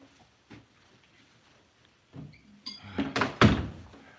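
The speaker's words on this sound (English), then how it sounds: "Shut the door." A door shut in a busy home, with a few hard thuds and knocks rising near the end of a quiet stretch, the loudest bang close by around the middle of the final second.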